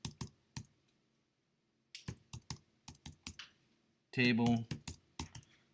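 Sharp, distinct keystrokes on a computer keyboard come in short bursts separated by a pause, close and crisp, with a brief spoken word among the final taps.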